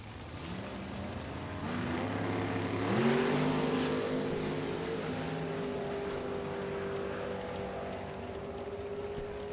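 Top Sportsman drag race car making a qualifying run down the strip at National Trail Raceway, heard from a distance as a rising engine roar that builds, then holds a steady high drone as it pulls away.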